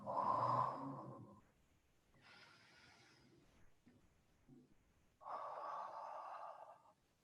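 Breathy exhalations in a qigong class practising the spleen healing sound, a soft whooo followed by two further airy breaths, close and quiet with pauses between them.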